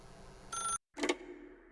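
A telephone rings in The Stanley Parable, a bright electronic trill sounding in two bursts separated by a brief silence, close and clear above a faint background hum.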